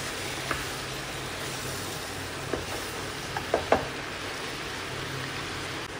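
Chopped onions and tomatoes being stirred in a pan over the heat, with a faint steady sizzle and a few soft, scattered knocks of the spoon against the pan, quiet and close, no talking.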